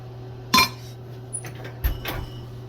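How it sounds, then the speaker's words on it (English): Laboratory filters set down into a glass desiccator: a sharp clink followed by a few softer knocks and clatters of glass and metal, close and alone against a steady background hum. "We'll put them in the desiccator"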